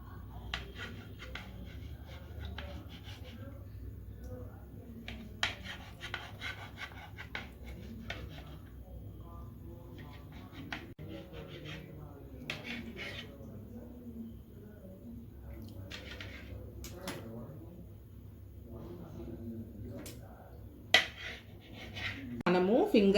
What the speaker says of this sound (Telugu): మనము ఫింగర్ సైజు పీసెస్ కట్ చేసి పెట్టుకోవాలండి